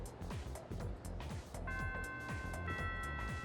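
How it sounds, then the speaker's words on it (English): A school bell chimes in the Persona 3 Reload video game, sustained ringing tones entering partway through and sitting over steady background game music. "The first bell is rung."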